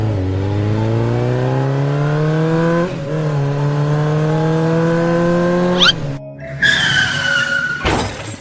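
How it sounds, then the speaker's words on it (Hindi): A super bike engine revs steadily in a long, loud rising drone, then cuts off abruptly into a skid-like screech and a brief burst of noise at the end. "और तभी अचानक से बाबा का सुपर बाइक से एंट्री होती है।"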